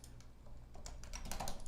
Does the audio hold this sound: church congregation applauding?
no